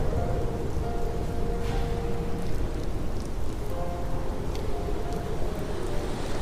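Heavy, steady rain pours throughout a storm with a low rumbling thunder bed underneath, a dense continuous wash with no pauses.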